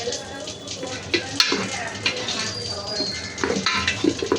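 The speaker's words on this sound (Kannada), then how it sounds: "ಅದು ಇವಾಗ ಫ್ರೈ ಮಾಡ್ಕೊಬೇಕು, ಚೆನ್ನಾಗಿ ಅರ್ಶಿನ ಈರುಳ್ಳಿ ಬೇಯಿಸ್ಬೇಕು" Onion with turmeric frying in a pan for a festive Ugadi meal, giving a steady sizzle with occasional clinks of a spoon against the pan, close by.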